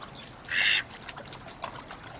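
A short, bright quack from a cartoon duck rises over faint background sound and a light trickle of water, a single call heard clearly and alone.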